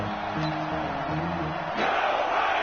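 Crowd in an American football video game on PS4 swelling ahead of a big third down, a moderate roar of cheering voices with a rise near the end, heard alone without commentary.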